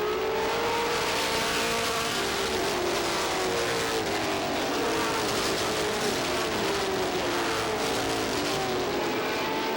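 Stock race cars of the 1989 Busch Grand National Budweiser 150 racing at Star Speedway, with a loud, continuous roar of several engines droning and shifting in pitch as the pack circulates.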